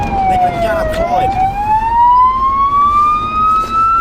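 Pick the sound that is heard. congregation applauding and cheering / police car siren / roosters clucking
police car siren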